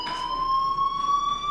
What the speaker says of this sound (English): do you hear that fire alarm?